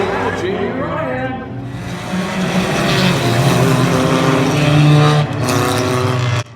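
A race car at Oyster Bed Speedway drones steadily through its victory lap, the engine roar rising and holding loud under continuous excited commentary, then cutting off abruptly.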